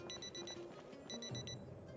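A player's wristwatch alarm in the zombie survival game Project Zomboid chirps in two quick bursts of rapid high electronic beeps, faint and crisp, with a short gap between the bursts.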